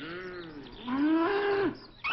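Cows moo in a couple of low, drawn-out calls that rise and sag in pitch, fairly close, followed by the start of another.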